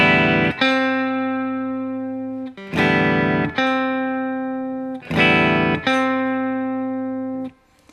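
Three sustained plucked notes on a guitar's G string with the other strings muted, each ringing clean and steady for about two seconds before the next attack, with a slight electronic, effected tone.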